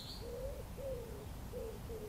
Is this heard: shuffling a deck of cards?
no